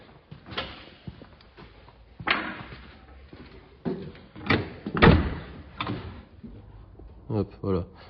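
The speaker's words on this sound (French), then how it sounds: "Je vais essayer de t'ouvrir la porte passager si elle est ouverte." The passenger door of a 1980s Chevy car is opened, giving several clunks, a latch click and a solid thump, with a person talking over it.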